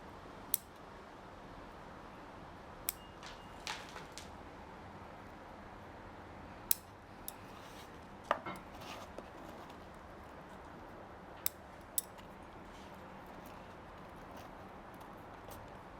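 Bonsai scissors snip back mini pine branches in summer, a handful of sharp, isolated clicks spaced irregularly over a quiet background, close to the ear with no voices.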